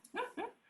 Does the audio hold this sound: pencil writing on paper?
no